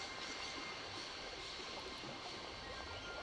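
Train from the Syberia video game rolling along, a faint steady rumbling hiss with no distinct clicks, continuous throughout and without talk.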